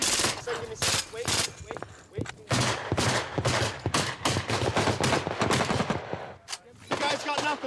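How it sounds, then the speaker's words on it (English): Rapid bursts of machine gun fire crackle in repeated volleys with short gaps between them, loud and sharp, while voices speak at times between the bursts. "Oh, that's the machine gun,"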